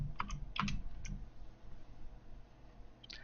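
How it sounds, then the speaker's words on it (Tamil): Typing the word "welcome" on a computer keyboard during Photoshop Lightroom editing: a few quick clustered key clicks near the start and another near the end, close and fairly quiet against a low room hum, no voices. "ஸோ வெல்கம்ங்கிற டெக்ஸ்ட்டை நான் டைப் பண்ணுறேன்"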